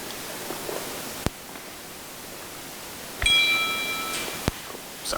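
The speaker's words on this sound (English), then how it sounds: "Sorry, I forgot to silence my phone." A mobile phone notification chime rings out indoors during a training session, a short bright tone with a few stacked ringing partials that sustain for about a second over a quiet room hiss.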